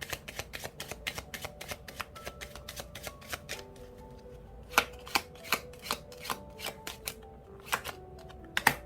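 Lenormand cards are shuffled by hand in a steady run of crisp riffling flicks and light slaps, close and quiet, with no voice over them.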